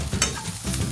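Banana pieces fry in a hot pan, giving a close sizzle with a quick scrape of stirring, brief and fairly loud.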